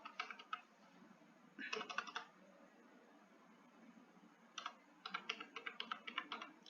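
Someone enters a security PIN on a computer keyboard, with two quick bursts of light key clicks separated by a pause. The typing is faint and close against a low steady hiss, with no voices.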